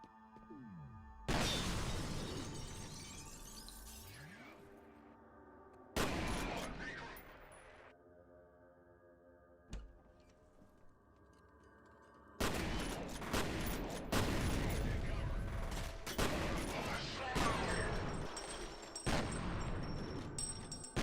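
Shotgun blasts in the F.E.A.R. shooter game, a few sharp, heavy bursts separated by quieter gaps, followed by a dense stretch of repeated loud gunfire and impacts, with a voice talking among them.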